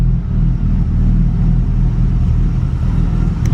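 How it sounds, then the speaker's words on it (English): A 1953 Plymouth Cranbrook engine idling inside a garage, a loud, steady low rumble with a slight uneven throb, close by and continuous with no talking. "I need to get this car turned off because it's getting pretty spicy in here"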